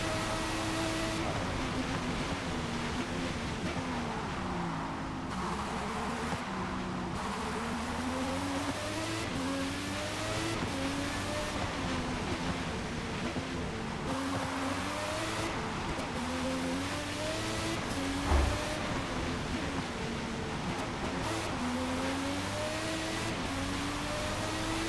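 A race car engine in the Forza Motorsport game revs and shifts continuously through corners and uphill runs, steady and moderately loud with no talk.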